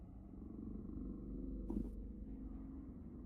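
Two kittens purr up close, a soft continuous low rumble that holds steady throughout, broken by one brief higher noise midway; no voices.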